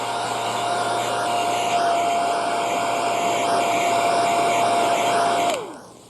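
A hair dryer blows a steady, close, loud whoosh with a constant whine over layers of theatrical makeup on an actor's face, then switches off and winds down near the end.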